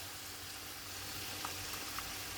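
Fish bhuna fries in a pan on the heat, a steady dense sizzle with a couple of faint pops, close and continuous.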